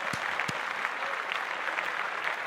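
Steady applause from a small crowd, with a couple of sharper claps standing out near the start, fairly soft and continuous throughout.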